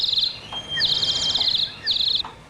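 A gold-leafed theater organ imitates bird calls, producing three bright, high, trilling chirp bursts with short gaps between them, clear and fairly loud over a faint background.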